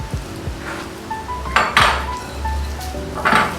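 A metal utensil scrapes and clinks against a pan as buko (young coconut) meat is mixed, several sharp clanks and scraping strokes with a faint sizzle underneath, close and fairly loud.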